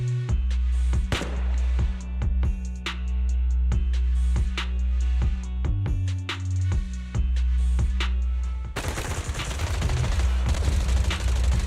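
Rapid bursts of loud automatic gunfire in video game combat, sharp repeated shots followed by a dense, noisy barrage toward the end.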